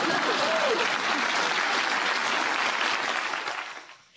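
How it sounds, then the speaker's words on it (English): A political campaign crowd in New Hampshire applauds at a rally, a dense wash of many hands clapping that holds steady and then fades out near the end. "Jeb Bush in New Hampshire asking desperately for some clapping."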